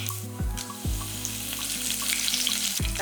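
Curry leaves crackle and sizzle sharply in hot oil, a steady close frying hiss with a couple of clinks from a utensil in the pan.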